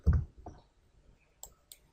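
A few sharp mouse clicks in SolidWorks CAD software, one strong click at the start, then lighter taps spaced out, with fainter clicks near the end against quiet room noise.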